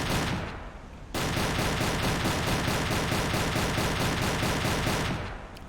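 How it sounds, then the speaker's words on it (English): Rapid, continuous gunfire from a French vessel in the submarine game Silent Hunter 3, a dense loud rattling burst that starts after a short lull, keeps a steady fast rhythm and stops abruptly. "French vessel firing."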